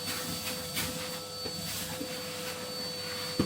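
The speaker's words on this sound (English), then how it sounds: "I'm just going to hoover that other plate" Vacuum cleaner hoovering out a stove plate on a 5kW M I Fires stove: a steady droning whine with a faint tonal hum, constant throughout, with a sharp knock near the end.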